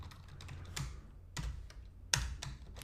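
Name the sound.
typing on a computer keyboard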